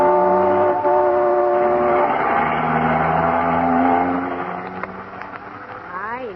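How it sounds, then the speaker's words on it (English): A car speeding along as a vintage radio-comedy sound effect, a steady droning engine hum with horn-like tones that gradually fades and thins, and voices talking over it toward the end. "Isn't he driving awfully fast"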